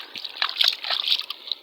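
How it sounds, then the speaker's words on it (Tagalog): Water sloshing and trickling as a purple jasper stone is washed by hand, short close splashy bursts with light drips over under two seconds. "Try nating hugasan mga guys sa tubig"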